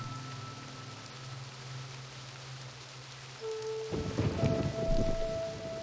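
Rain and thunder from a lightning strike in the video game realMyst, a steady soft rain hiss that swells into a louder rumbling crack partway through, with no voices.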